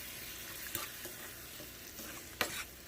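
Cheese soup broth is stirred into sauce in a pan, producing a faint, steady sizzle and liquid wash with a few soft scraping clinks of the utensil.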